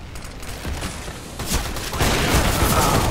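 Grenade bursts and gunfire in Counter-Strike, a series of sharp blasts growing into a louder, sustained roar of explosions toward the end, no talking.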